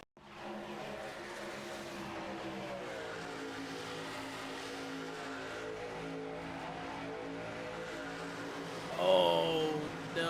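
Race car engine sound from a race replay in the iRacing simulator at Chicagoland, a continuous loud engine drone with shifting pitch as the car spins, and a sharp squeal near the end.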